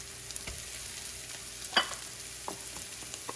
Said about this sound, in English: at this point we're gonna throw in our garlic